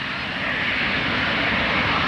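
A small jet airplane at an air show spools up on the runway before takeoff, a loud, steady engine roar that holds close and constant throughout.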